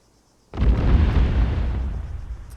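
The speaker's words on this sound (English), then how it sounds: "And here comes the bombs. Kaboom." A bomb exploding in the military video game Arma 3, one heavy deep boom that bursts in suddenly and rumbles on as a long, loud decaying roar.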